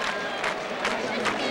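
A stadium crowd after a Michigan football game against Notre Dame, with a broad, steady roar of cheering and babble and a few swells, heard as a distant mass of voices.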